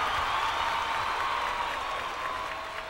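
Steady, dense applause from a large audience at an awards ceremony, the Zee Cine Awards 2008, a continuous wash of many hands clapping at even loudness throughout.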